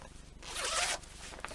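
A zipper on a handmade vinyl project bag is pulled in one quick, bright rasping stroke lasting about half a second, close up, followed by a couple of faint small clicks.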